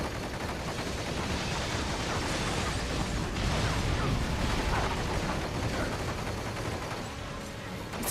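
Gunfire in Metal Gear Rising Revengeance, a dense continuous barrage of shots and impacts mixed with game effects, loud and steady throughout.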